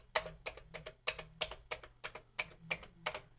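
Keys clack on a new Commodore computer keyboard, about a dozen crisp, close taps in an uneven typing rhythm with short pauses between them.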